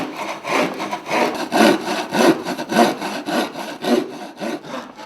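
A hand saw cuts through wood to make a traditional Yao wooden comb, with steady back-and-forth strokes in a regular rhythm, close and loud, with no talk.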